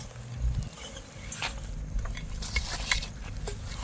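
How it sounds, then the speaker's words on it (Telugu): Raw beef heart being mixed with salt by hand in a metal bowl or pot, giving close, wet squelching and stirring sounds with occasional light clinks of the container, steady and continuous with no talking. "ముందు ఉప్పు బాగా ఇలా కలిపితే అది అంతా పోద్ది"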